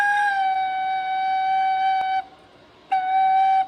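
A flutophone plays a single F sharp, a clear, steady, pure whistling tone held for about two seconds. After a short silence the same note sounds again.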